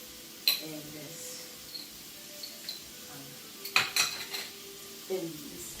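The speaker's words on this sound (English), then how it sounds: "I'm gonna stir the shrimp again" Shrimp is stirred through a salad, giving a few separate clinks and scrapes of a utensil against the bowl, the sharpest near the start and middle, over a quiet background with no talking.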